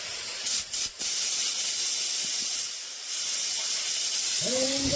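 A spray gun lays 2K paint onto an old Crossley engine in a workshop, a steady close airy hiss running nearly the whole time with a couple of brief breaks near the start and a short tonal squeal at the end.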